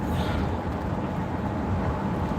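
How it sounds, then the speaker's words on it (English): Road traffic on a busy highway, a steady broadband rumble and wash of passing vehicles heard from inside a moving car, with no voices. "Y'all, look at traffic."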